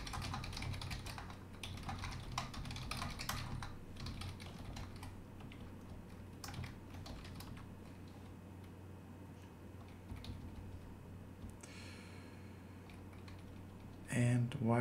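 Rapid, steady typing on a computer keyboard while writing Rust code, close and clear, with continuous key clicks throughout and a brief louder bump at the end.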